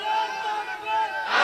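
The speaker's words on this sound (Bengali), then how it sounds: "দাও তাকবীর" A crowd at an Islamic religious gathering (waz mahfil) in Bangladesh shouts the takbir together, a loud, sustained mass of raised voices swelling toward the end.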